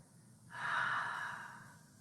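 Slow exhaled breath during a chair yoga session, a single soft airy whoosh that swells after half a second, peaks, then gradually fades out over about a second and a half, close and fairly quiet.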